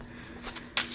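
A deck of cards riffles and shuffles softly up close, a continuous papery rustle with a brighter flick near the end, quiet and alone.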